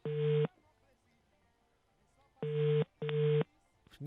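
Telephone ringback tone while a call to a madam waits for an answer: three steady electronic beeps with pauses between them, ringing clearly with no talk over them.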